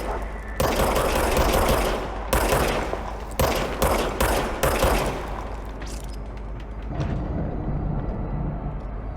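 Rapid gunfire from a weapon in the video game Control, loud and close, with several dense bursts that break off between shots and then tail away into quieter ambience.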